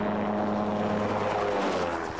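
Gyroplane in flight, its rotor and propeller engine droning in a continuous, fairly loud hum with steady low tonal buzz and broad airy rush, no pauses or talk.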